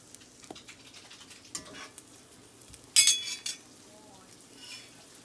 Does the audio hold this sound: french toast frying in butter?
yes